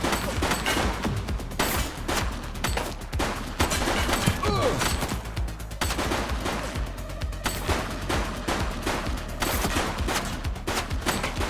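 Rapid, sustained gunfire from the police video game The Precinct: dense bursts of shots crackle loudly and continuously throughout, with no pauses and no talking.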